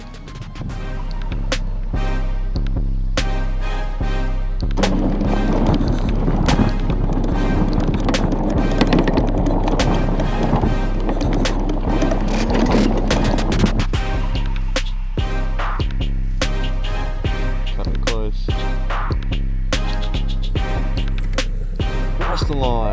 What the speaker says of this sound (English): It's time to give the Greenworks bike a go.